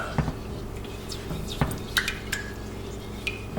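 A spoon mixes a thick sauce for slow cooker brisket, making scattered clinks and scrapes against the bowl with soft wet squishes between them, close and fairly quiet.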